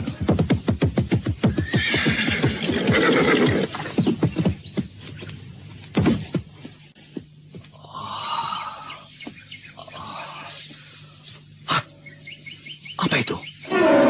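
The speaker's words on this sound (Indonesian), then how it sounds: "Sudah cukup jauh kuda ini berlari." A horse runs and whinnies, with a rapid clip-clop gallop at first, then scattered snorts and neighs, birds chirping lightly and voices speaking over part of it.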